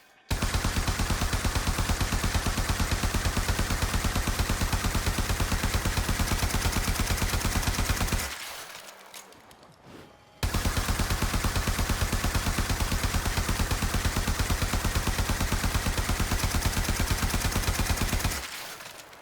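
Prisma Twin Gremlins pistols in Warframe fire in rapid, sustained automatic bursts, a dense stream of loud gunshots lasting about eight seconds, a brief pause, then another equally long burst.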